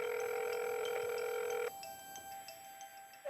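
Ringback tone of an outgoing telephone call: one steady, moderately loud electronic burst lasting under two seconds, then a pause with faint background hum and no voices.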